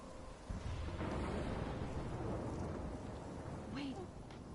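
Thunderstorm in the game Life is Strange, a heavy rumbling roar of wind and rain with low thunder swelling near the start and holding steady, faint talk underneath.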